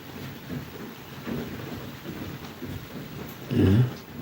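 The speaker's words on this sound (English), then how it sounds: "because it's drizzling" Light drizzle falling outdoors, a soft steady patter of small drops filling the background at low volume, with a brief louder rumble or splash near the end.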